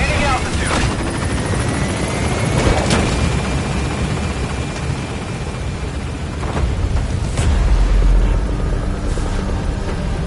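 Helicopter in Metal Gear Solid 5 with a steady, loud rotor drone and engine roar running throughout, joined by a few heavy booming impacts near the middle and end.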